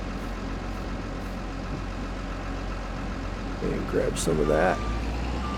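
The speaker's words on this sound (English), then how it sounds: "Jump into the wheel loader." A wheel loader in a farming video game idles with a low, steady engine rumble and a repeating reversing beep, heard under someone talking.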